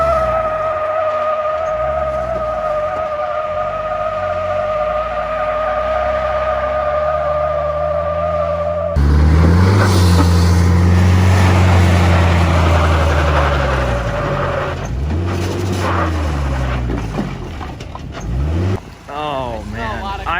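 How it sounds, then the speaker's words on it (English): A Toyota Hilux and a Ford Raptor strain against each other in a tug of war, engines droning under load and rising to a loud revving roar with tire and clutch strain midway, while people talk and shout over it. "Tug of war, Hilux versus the Raptor."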